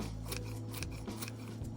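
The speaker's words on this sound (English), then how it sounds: "just the tips of your scissors to do this" Scissors trim a wolf snout mask with quick, close snipping at the blade tips, several crisp cuts in an uneven rhythm, quiet and alone with no talk.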